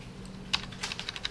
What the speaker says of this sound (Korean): F1을 눌러주세요.